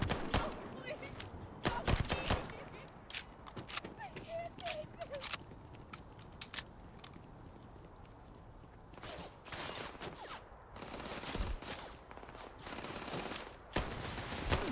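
Gunfire in the video game Starfield, running on a low-end graphics card: sharp bursts of shots in irregular clusters, some quick volleys close together, with a person talking at times between them.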